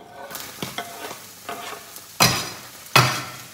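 Onion fries in a pan with vegetable broth, a steady low sizzle punctuated by several scraping stirs, the last two louder and sharper, with no talking.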